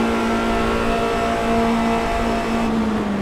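A Formula Renault 2.0 race car engine in the iRacing simulator at Monza holds a loud, steady high-pitched drone at sustained revs, with no voices over it.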